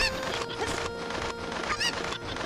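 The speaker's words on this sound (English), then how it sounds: "Where's the chicken? There's the chicken." Chickens from the video game Ocarina of Time, in the village of Kakariko, give several short nasal clucks and squawks in quick succession over continuous game background music, with no voices.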